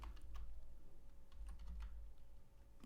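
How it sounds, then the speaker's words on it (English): Typing on a computer keyboard, a run of quick uneven key clicks over a steady low hum, close and moderately loud. "And we're going to type in"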